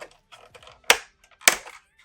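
Two sharp plastic snaps from a piece being unclipped off a Star Wars Micro Galaxy Squadron Ghost toy ship, close and loud, with lighter handling clicks between them.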